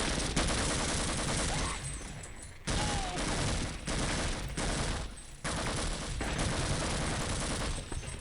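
Sustained gunfire in Half-Life: Uplink, loud rapid bursts of automatic fire broken by a few short pauses, dense and continuous over about eight seconds.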